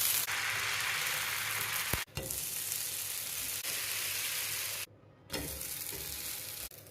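Urad dal dosa batter sizzles steadily on a very hot pan, a loud continuous frying hiss with a few brief breaks and one short gap of silence, no voices.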